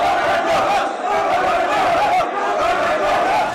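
Party workers chanting slogans at party headquarters, a dense, loud crowd of raised voices shouting together continuously throughout.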